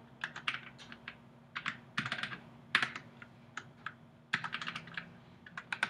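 Fingers type on a computer keyboard in bursts of quick, crisp clicks with short pauses between runs, close and fairly quiet against a low steady hum.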